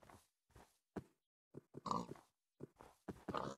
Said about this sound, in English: Oh, it's two pigs